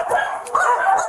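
Several dogs bark and yip indoors inside a house crowded with animals, short sharp barks overlapping in quick bursts at close range.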